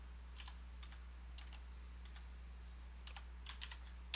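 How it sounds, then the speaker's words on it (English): Quiet, close keystrokes on a computer keyboard while working in the Emacs editor, scattered taps and short clusters of typing over a steady low hum. "Then I type"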